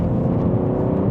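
A BMW M3 CS on lowering springs turns into a corner, its engine giving a steady, close, throaty drone with a smooth low rumble and no talk over it.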